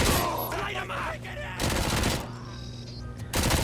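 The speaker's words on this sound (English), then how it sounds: "as soon as you come down and enter this doorway, you will go into a shootout mode" Bursts of gunfire crackle in rapid volleys during a shootout in the RoboCop: Rogue City video game, with loud automatic fire separated by short gaps and a brief voice underneath.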